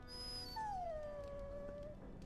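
A dog whines in a video game, one long sliding whimper that rises and then slowly falls, fairly clear against a low steady background hum.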